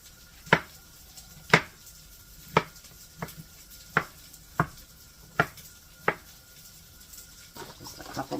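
Knife strokes chop mushrooms into chunks for soup, about eight crisp, separate hits at an uneven, unhurried pace on a cutting board, close and clear with no talking.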